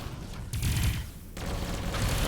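Pulse cannons fire in the space game Avorion as a loud, dense stream of rapid energy bursts that runs through the whole stretch with only a brief lull midway.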